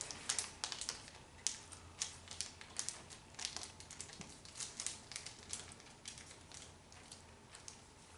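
Origami paper being folded and creased by hand, a string of soft crisp crinkles and taps, close and quiet, with faint background noise.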